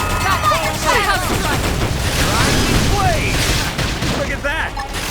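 Gunfire opening up in the video game Xenoblade Chronicles X, a dense continuous barrage of shots and booms layered with voices and chatter throughout, loud and close.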